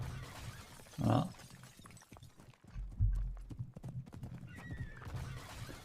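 A horse's snort or whinny rises once near the start, followed by a heavy impact thud and scattered clopping hooves, all fairly soft and alone with no talk, in an AI-generated video scene.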